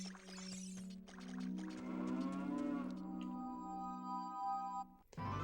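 A cow in Ocarina of Time on the Nintendo 64 gives a long, low, sustained moo that slides slightly in pitch, clear and alone for several seconds before cutting off abruptly.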